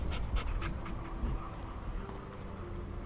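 A companion dog in the fantasy video game Gedonia pants in quick, rhythmic breaths, close and soft, steady for the full few seconds with no voices over it.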